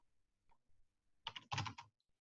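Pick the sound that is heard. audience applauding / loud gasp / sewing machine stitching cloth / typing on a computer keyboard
typing on a computer keyboard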